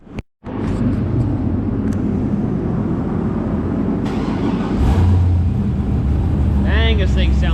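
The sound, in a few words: tuned car engine running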